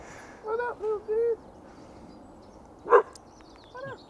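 A small dog gives a few short yips and barks, three quick ones close together and a single sharper bark later, with a whimpering note at the end, over quiet room background.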